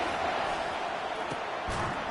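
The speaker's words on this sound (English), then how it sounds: "Here comes this home crowd as the defense tries to get off the field on 3rd down" Home crowd noise at an NCAA football game as the defense tries to get off the field on third down, a steady broad roar of cheering that holds at constant loudness throughout, with a couple of sharp thuds near the end.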